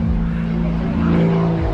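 Kirby Chambliss's aerobatic airplane roars low through a vertical down line at an airshow over water in Cayman, a loud steady engine drone with a gradual pitch shift, while a commentator may be faintly audible underneath.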